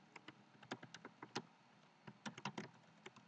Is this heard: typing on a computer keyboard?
yes